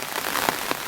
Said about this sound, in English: And now it's raining like crazy.